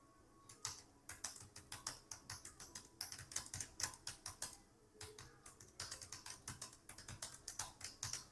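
Rapid clattering keystrokes on a computer keyboard as an email address is typed, close and fairly quiet, in uneven bursts with brief pauses and no voices.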